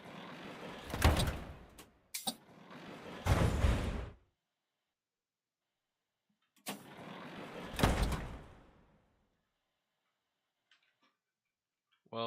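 Subway train doors open and close in the GMod Metrostroi simulator: two clusters of loud mechanical sliding and clunking bursts separated by silence, each ending in a thud, with faint ticking afterward.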